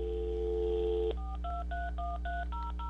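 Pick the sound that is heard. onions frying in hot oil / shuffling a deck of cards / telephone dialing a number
telephone dialing a number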